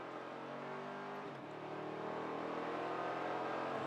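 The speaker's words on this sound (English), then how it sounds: "Big Chevy Thunder from the number 6 Camaro" Race car engine roaring from the number 6 Chevrolet Camaro at Virginia International Raceway, a loud sustained drone with a pitch dip and recovery midway as the car shifts and accelerates.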